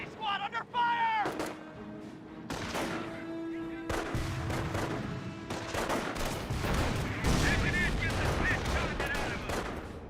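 Gunfire in a Company of Heroes battle as an anti-tank squad comes under attack, with dense bursts of shots and rattling fire running through the scene over continuous battle noise and a talking voice.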